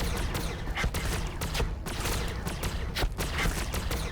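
Hellblasters firing plasma guns in the Warhammer 40k strategy game Battlesector, a dense, continuous volley of loud crackling shots layered over constant battle noise.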